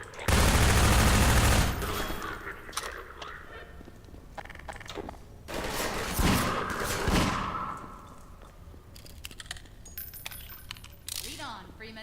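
Gunfire in a Half-Life 2 firefight: a loud burst of automatic fire at the start, then scattered shots and impacts with the clatter of combat continuing.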